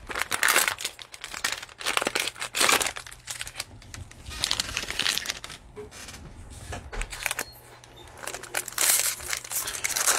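A 2020-21 Prizm NBA Basketball cello card pack wrapper being snipped open and handled: repeated crisp plastic crinkling and rustling bursts, close and fairly loud, with short quieter pauses between.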